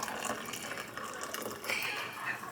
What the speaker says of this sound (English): we're going to put water in it and then cool it off